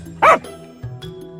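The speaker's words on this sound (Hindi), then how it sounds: "लेकिन तभी एक कुत्ता जोर से भौंकता है।" A dog gives one loud, sharp bark close by, followed by a couple of softer low yips or grunts, standing alone as a story sound effect without speech.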